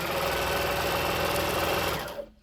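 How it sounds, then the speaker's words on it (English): A sewing machine stitches a Christmas stocking in a steady, fast whirring run that stops abruptly near the end, close and alone. "Just sewing along the lines, cleaning up the threads as I go."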